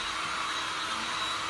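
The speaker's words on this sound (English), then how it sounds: "I think I'm gonna hit these with my dryer real quick" A hair dryer blows steadily on resin art during a glass and resin project, a loud, constant whooshing hum holding level throughout with no voices.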